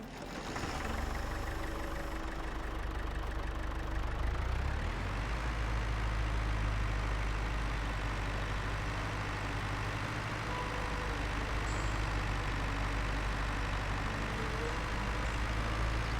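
Tractor engine in the game Farming Simulator 22 runs steadily with a low, droning rumble, loud and continuous throughout, its pitch shifting slightly as the machine is driven, with no talk over it.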